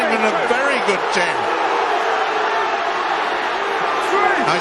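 A rugby league crowd bays and roars at the official at a Warrington versus Catalan match, a loud, sustained wall of voices under continuous commentary.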